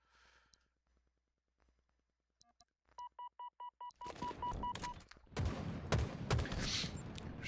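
Gunfire in Halo Infinite during an Oddball match on Streets: quiet at first, then a row of short beeping tones, followed by dense, loud bursts of rapid shots and blasts filling the last few seconds.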